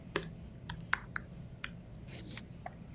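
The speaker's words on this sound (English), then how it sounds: "My chunky fingers don't like this tiny keyboard" Fingers typing on a tiny computer keyboard, a sparse run of soft irregular clicks with pauses between keystrokes, heard close and quiet over a low background hum.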